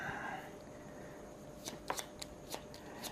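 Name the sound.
shuffling cards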